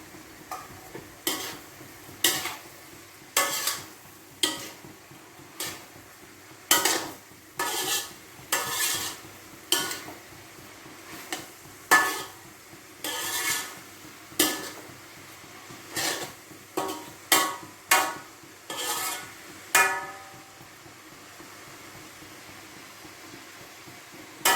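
Ginger mango pickle being stirred in a pan after a spoonful of sugar goes in: a spoon scrapes and taps against the metal in an uneven, repeated rhythm over a faint sizzle.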